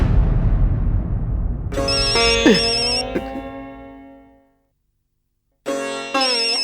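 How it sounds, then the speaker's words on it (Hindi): After a fading rumble, a tonal phone ringtone plays through a small speaker, stops for about a second, then starts again. "मेहता साहब अपना फोन निकालिए और अपने बॉस को फोन लगाइए।"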